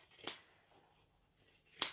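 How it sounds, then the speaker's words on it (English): Scissors trimming away fabric seam allowance on a sewn bag, two crisp, close snips separated by a short quiet pause. "I'm going to chop off all of that seam allowance"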